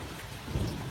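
Heavy rain pours steadily through a thunderstorm, with a low rumble of thunder swelling toward the end of this brief stretch, no voices present.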